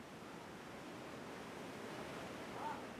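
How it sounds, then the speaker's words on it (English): Wind stirring the grass and trees around a mountain village at night, a faint, steady broadband rustle that stays low and even. A soft, brief tonal note rises near the end. "The only sound is the grass and trees shaking in the wind."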